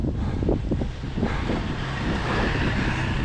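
Strong wind buffets the microphone while cycling along a road in Lancashire, a loud, steady roaring rush with low gusting rumble, no voices.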